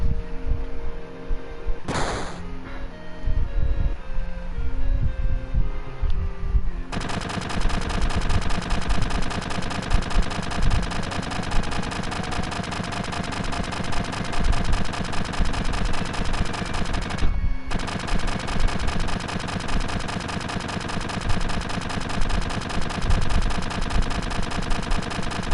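Rapid, continuous gunfire from the Final Fantasy 7 video game, a dense loud clatter running for over twenty seconds after a quieter opening, with one brief break partway through.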